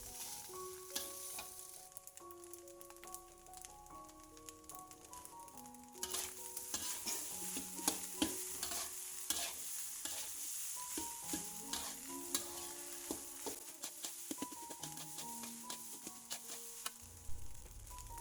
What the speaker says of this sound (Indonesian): Lalu saya akan memasukkan nasi merahnya, diaduk lagi sampai tercampur merata dengan baik.